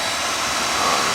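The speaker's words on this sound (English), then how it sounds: "Basically, I'm just running the motor, so there's no oil being pumped in anywhere." Oil burner motor running without firing, spinning only to prime the pump during a home heating oil tank replacement; a steady, loud, even whirring hum with no variation and no speech.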